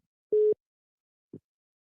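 A telephone busy tone after a caller hangs up, one clear steady beep followed by the faint start of a second, heard alone against silence.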